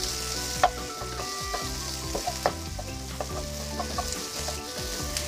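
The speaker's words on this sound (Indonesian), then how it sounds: "panaskan sedikit minyak lagi dan tumis bawang putih, bawang merah, dan jahe, serta sekalian masukkan cabai merah" Garlic, shallots, ginger and red chili sautéing in hot oil, a dense continuous sizzle with intermittent clinks and scrapes of a spatula stirring, close and alone without voices.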